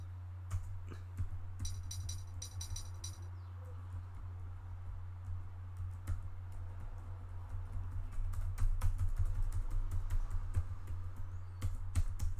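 Computer keyboard keys are pressed in irregular bursts of close, crisp clicks, with a rapid flurry early on. A steady low hum runs underneath.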